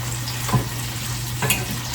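Garlic, onions and tomatoes sauté in olive oil, a steady low sizzle with a couple of brief stirring scrapes near the pan, no talk.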